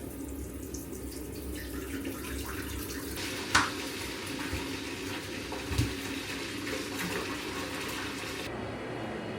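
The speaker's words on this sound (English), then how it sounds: "let's get this bath run" Water from a tap runs steadily into a bathtub as a bath is drawn, a soft continuous gush with a couple of faint knocks, no talking.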